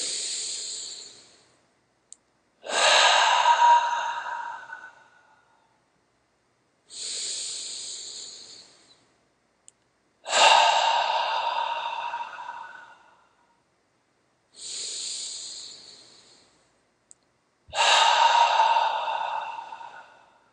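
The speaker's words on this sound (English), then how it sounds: "Let's just take 3 breaths together and let that light just shine" Three slow, deep breaths, each drawn in through the nose and released as a long, audible hissing exhale. The breaths are close and alone, with quiet pauses between them.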